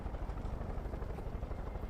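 Helicopter in the video game Far Cry 5, heard as a close, steady rotor thump and engine drone that continues for the whole clip without talk.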